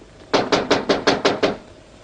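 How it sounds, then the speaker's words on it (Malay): Seven sharp, evenly paced knocks on a wooden door, loud and close, in a quick steady rhythm with silence before and after. "Coba pikir siapa ada ketuk pintu."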